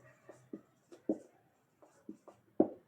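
Writing on a board during a Class 10 physical science lesson makes sparse, quiet taps and short strokes in an irregular rhythm, close by with no other sound.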